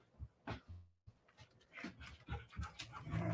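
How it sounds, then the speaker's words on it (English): Dogs playing with a man indoors, giving short panting and whimpering bursts that rise and fall in an uneven, lively rhythm, fairly close and moderately loud. "My husband's playing with the dogs."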